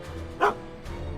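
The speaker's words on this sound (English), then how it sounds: "Good dog." A single short dog bark from a dog in the Back to the Future video game, loud and close, standing out around the middle over a low steady game background.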